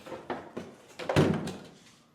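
The sliding magic door of an International Harvester Metro step van gives a few light rattling knocks, then a solid thunk as it shuts, close by and fairly faint.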